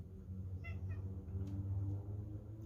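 A house cat gives a couple of short, faint meows indoors over a steady low hum, each cry brief and close together.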